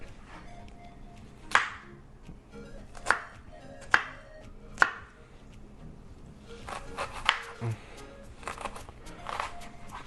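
An onion is chopped with a knife on a board in a home kitchen, giving several sharp, close knocks spaced about a second apart, then a busier patch of scraping and tapping, with a voice talking in between.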